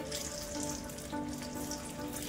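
Ridge gourd fritters (bhaji) fry in hot oil, giving off a steady, dense sizzle with crackling bubbles that holds close and fairly loud throughout, with no voices over it.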